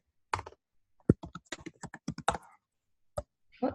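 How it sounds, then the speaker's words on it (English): Keys on a computer keyboard are tapped in a quick irregular run of crisp clicks, then a lone keystroke and a short final burst, close and clear in a quiet room. "I'm going to type"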